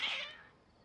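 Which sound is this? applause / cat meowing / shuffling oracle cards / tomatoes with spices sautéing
cat meowing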